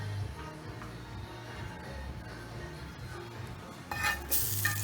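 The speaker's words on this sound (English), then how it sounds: "I just added a little bit of butter back into the pot" Butter sizzling in a pot while preparing a scallop potato pie, a steady low crackle with light stirring and a brief clatter of utensil against the pot near the end.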